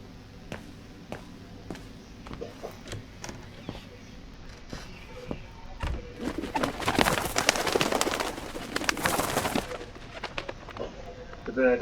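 Birds coo and call around a bird house in the video game Syberia. Sharp, repeated clicks and knocks run through the scene, with a denser cluster of coos and flutters in the middle. It sounds moderately close.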